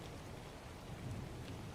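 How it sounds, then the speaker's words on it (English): Steady, dense rain hisses and patters throughout, with a low rumble of thunder swelling underneath midway, quiet and continuous with no voices. "Oh, that rain is coming down. It's beginning to thunder here right now."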